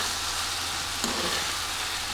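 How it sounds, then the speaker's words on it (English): Calzone filling cooking in a pan over turned-down heat, a steady soft sizzle with a single brief stir or clatter midway, alone without talk. "I'm just going to cook this through for maybe 2 or 3 minutes"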